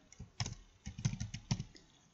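Someone types on a computer keyboard in short uneven bursts of close, crisp key clicks, with no talk.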